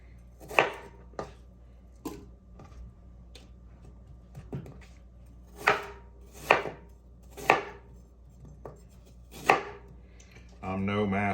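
A knife chops food on a cutting board, about a dozen separate thuds in an uneven, unhurried rhythm, close and fairly crisp, with a brief clatter at the end and no speech.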